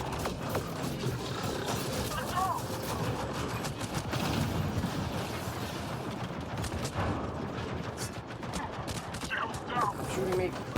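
Rapid gunfire and dense combat noise in the Mass Effect Andromeda multiplayer video game, with bursts of shots layered over a busy, continuous clatter of effects throughout.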